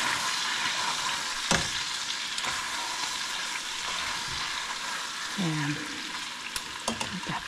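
Beef frying and being stirred in a pan with garlic, a steady sizzle with scraping stir strokes and a few clinks of a utensil, close up, with a brief spoken word near the end.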